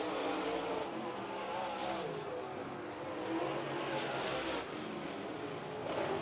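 A loose race car at a dirt-track Northern Summer Nationals qualifying night is driven hard off the corners, its engine roaring steadily at a distance with rising and falling revs and faint tire scrabble, and no talk over it.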